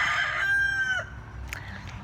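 A rooster named Lancelot crows once, loud and close, a long drawn-out call lasting about a second, followed by a few softer clucking notes against quiet outdoor background noise.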